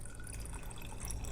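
Water pours into the bottom of a glass canning jar, filling about an inch deep, a steady close splashing trickle with no talking.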